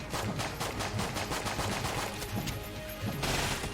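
Rapid gunfire in the video game Enter the Gungeon: a dense, loud stream of repeating shots in quick bursts, continuous with a heavier blast near the end, no speech.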